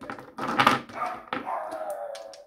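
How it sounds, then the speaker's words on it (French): Dogs barking in a short burst of several overlapping barks, moderately close, with a fading whine-like tail, heard alone without talk. "Voilà, on a les chiens qui aboient."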